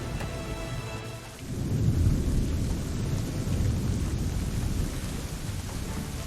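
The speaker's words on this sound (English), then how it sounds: "I'd say it's high time we find some cover from this storm, Captain." A thunderstorm in the Assassin's Creed 3 Remastered game brings a deep rolling thunder rumble that swells after a moment, over steady heavy rain hiss, loud and continuous, with no speech.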